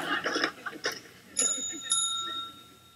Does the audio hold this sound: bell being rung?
yes